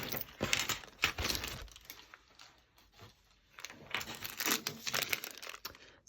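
A plastic mystery bag of charity shop costume jewellery is torn and opened, giving bursts of close, loud crinkling and rustling with small clinks of jewellery pieces, easing off in the middle before picking up again.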